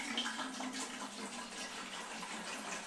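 Distilled water pours steadily from a gallon jug into the upper chamber of a Berkey gravity water filter, a continuous close gush filling the container with no talk.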